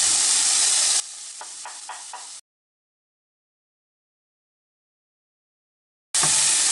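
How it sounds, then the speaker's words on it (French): A green bell pepper hits a hot pan for spicy shrimp sauce: a loud, broad sizzle with a few soft stirring knocks, then silence for several seconds before the frying hiss returns at full strength. "On va mettre le poivron vert."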